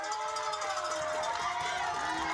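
Crowd at a Chilliwack Giants Friday night high school football game, a continuous loud roar of cheering and noise filling the stands as players rally the fans, with a sustained tone running through it.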